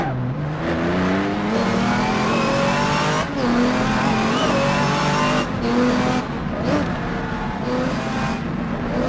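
A race car engine roars continuously in the rFactor 2 sim, run at Brands Hatch in a 1986-style GT race, with revs rising and dropping through gear shifts and brief tire scrubbing, loud and close throughout.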